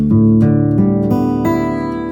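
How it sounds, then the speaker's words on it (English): An electric guitar in drop D tuning, with the low E string tuned down to D, sounds a few sustained low plucked notes in quick succession, loud and close. "take this low E string and tune it down to a D, so it should sound like this"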